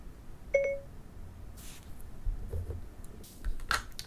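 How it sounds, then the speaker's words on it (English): Siri activation tone plays through Powerbeats Pro wireless earbuds, a short, clear electronic chime with a couple of bright tonal beeps early on, followed by faint clicks and soft background rustle. "if I say Hey Siri just with the earbuds, then Siri activates on my phone"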